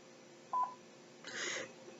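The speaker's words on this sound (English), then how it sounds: "And that was my notification on my phone." A phone notification chimes faintly: a brief high tone followed by a short, brighter electronic burst over quiet room hiss, with no talking.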